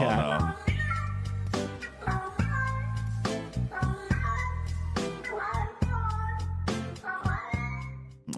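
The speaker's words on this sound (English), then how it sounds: "Oh, no, another cat." A cat meowing repeatedly over a video game stream, with several loud, close meows in an irregular series mixed among talking voices.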